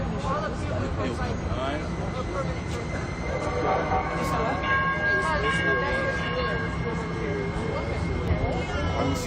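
A train rumbles past a live street protest, its steady broadband roar running the whole time under crowd noise and scattered voices, with faint tonal whines and a possible distant horn mixed in.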